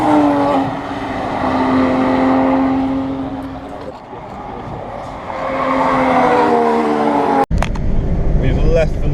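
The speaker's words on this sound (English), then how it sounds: "Whoa, there's Lotus." A Lotus car drives past on a road near the Nürburgring, its engine swelling and fading in two passing waves amid road noise, with people talking nearby.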